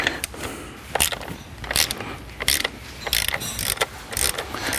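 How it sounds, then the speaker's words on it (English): Hand ratchet tightening a bolt while installing an MGW CNC short shifter on a C7 Corvette: close, loud bursts of rapid clicking in irregular strokes, with brief pauses between swings. "I'm all self-conscious about my ratcheting because people always make fun of me"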